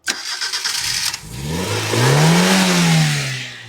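A car engine hot-wired without a relay cranks with a rapid whirring starter, catches, then revs up in a rising and falling roar before settling, close and loud.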